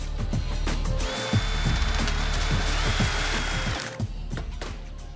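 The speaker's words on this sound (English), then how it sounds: "Derek decides to cut a piece of steel to size." A power tool cuts a piece of steel to size for the dash support bar of a Volkswagen beach buggy, a loud whining grind held for about three seconds over a rumbling motor, close by.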